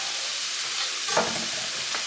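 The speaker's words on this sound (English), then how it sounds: "So the artichokes going next. I'm going to saute these." Artichokes sautéing in a pan give off a steady, fairly loud hiss with no breaks, with one brief clink of a utensil partway through and a soft tap near the end.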